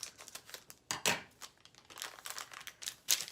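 Inflatable toy material being cut along its side with scissors, a close, crinkly run of snips and rustles, steady with a few sharper crunches, alone without talk.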